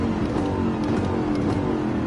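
Race car engine from Gran Turismo 7 during a manufacturer race, a steady loud drone that holds at a constant level throughout, with no voices over it.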